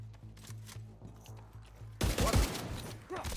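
Sustained automatic gunfire in Tom Clancy's The Division 2. A rhythmic low pulsing gives way halfway through to a loud, dense burst of rapid shots and impacts that carries on to the end.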